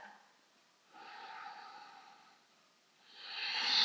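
A final deep breath during a yoga session: a slow, airy inhale followed by a long, louder exhale through the nose, close and alone.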